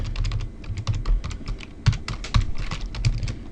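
Rapid computer keyboard typing while entering script code, a dense stream of crisp close key clacks with a few heavier thumps, steady and fairly loud, no voices.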